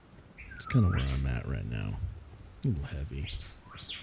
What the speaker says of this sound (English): You can hear my little R2-D2 parrot in the background.